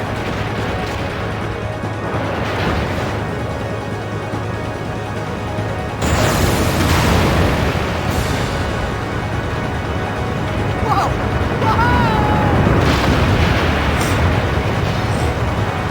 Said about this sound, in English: We just exploded a building.